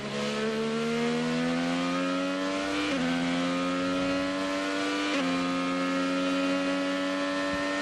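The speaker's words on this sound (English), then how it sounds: "174 miles an hour on our Honda telemetry as he hit the braking zone for turn number 7" Honda IndyCar race car at Indianapolis braking into turn 7 from about 174 mph, a loud, steady high-pitched engine whine that steps down in pitch twice as the driver downshifts, with no voices.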